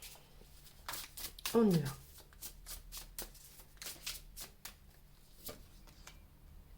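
Tarot cards being handled and shuffled, with a series of short papery riffles and slaps spread across the clip, mixed in with a person speaking.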